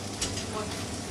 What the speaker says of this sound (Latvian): Tagad tas mums viss cepjās lielā